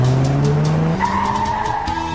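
Tires skid and squeal loudly in a car crash effect for an auto body shop advert, a sustained screech that shifts pitch partway through, with no voices.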